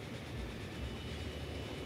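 A train from the video game Transport Fever rolls along as a steady, dense low rumble that holds evenly from start to finish, with no talking.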